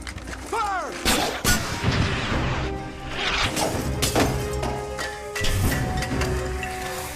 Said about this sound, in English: How did the canister break through the first pane of glass and not break through the second on the opposite side?